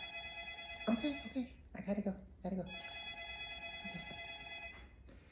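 An office telephone at an elementary school front desk rings steadily in repeated bursts, close and fairly loud, while someone talks over it.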